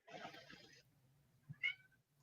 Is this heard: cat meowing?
yes